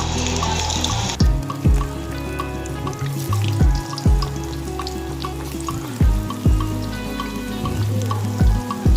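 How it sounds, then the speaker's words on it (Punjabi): Bitter gourd pieces crackle and sizzle in hot oil, with a steady frying hiss broken by repeated clanks of a utensil against the pan. "ਹੁਣ ਆਪਾਂ ਤੇਲ ਦੇ ਵਿੱਚ ਕਰੇਲਿਆਂ ਨੂੰ ਸਭ ਦਵਾਂਗੇ"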